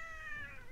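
A person imitates a cat's meow, a single drawn-out, wavering cry held close and alone for under a second.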